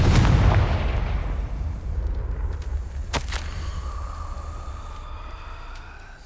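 Spell blasts from Confringo in Hogwarts Legacy: a loud explosive burst opens, then a sharp crack follows mid-way, with a long rumbling tail and a thin lingering whine fading beneath.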